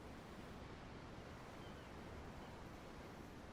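Steady ocean surf from the Tales of Arise video game, a continuous broad wash of waves, even and soft throughout.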